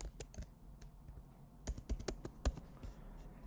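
Keys clattering on a computer keyboard as a wallet nickname is typed, a quick run of sharp clicks with a few louder strikes, close and dry with no voices.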